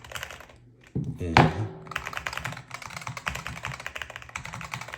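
Clicky presses of buttons on a Haute42 M13 arcade controller, a sharp thunk followed by a run of quick tapping presses in uneven rhythm, close and clear, with a brief spoken word near the start.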